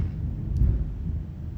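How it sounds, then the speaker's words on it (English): Low rolling thunder rumbles through steady rain at night outside a house, a deep sustained roll that swells slightly midway and stays fairly distant, with no voices. "Some good thunder."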